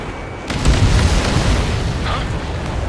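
Enemy vehicle blown up in Ace Combat 7, a heavy, rumbling explosion that swells and lingers for a couple of seconds amid the surrounding combat noise.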